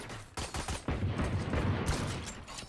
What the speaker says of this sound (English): Wall bangs in the pistol round.